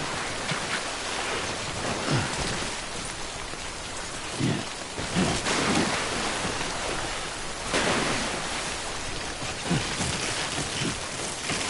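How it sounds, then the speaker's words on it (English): Steady rain in the video game Death Stranding, a dense continuous hiss of drops that swells and eases slightly throughout, with no voices. "Don't stay out in the rain any longer than you have to."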